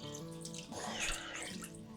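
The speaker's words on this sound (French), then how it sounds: "on mouille. C'est-à-dire qu'on ajoute de l'eau" Water poured into a cooking pot over chopped vegetables, a continuous close splashing gurgle that swells briefly in the middle, with no voices.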